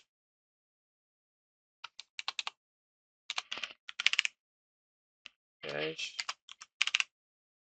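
Bursts of rapid keystrokes on a computer keyboard while SystemVerilog code is typed, coming in quiet clusters separated by pauses, with a brief spoken word partway through.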